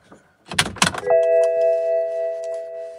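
BMW Z4 with an N54 engine has its ignition switched off and back on: a few sharp clicks and clunks, then steady electronic tones and chimes hum on alone as the dash powers up.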